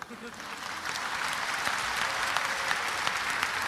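An audience claps steadily for several seconds, a dense soft patter of many hands that swells slightly and holds, heard at moderate distance in a lecture hall setting.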